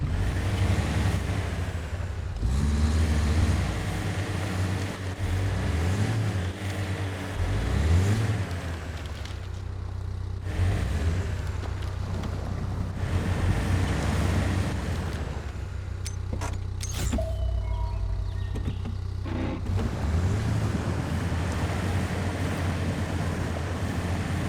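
A truck in MudRunner ploughs slowly through water, its engine droning steadily under sloshing, surging splashes that swell and fade in waves over about twenty-five seconds, with no voices.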